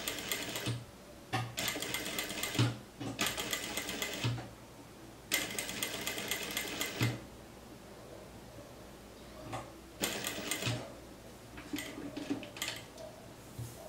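A domestic sewing machine stitches a beginner's blouse in several bursts, steady rapid whirring runs that stop and start with short pauses between, close and moderately loud, with no talking.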